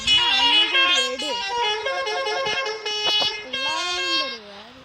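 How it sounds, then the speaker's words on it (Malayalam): A Kerala tourist bus called Komban Yodhavu sounds its melodic multi-tone horn, loud and close, with sliding, tuneful blasts running nearly nonstop for about five seconds. "2 ഹോൺ അടിച്ച് കൊടുത്തിട്ടുണ്ട്"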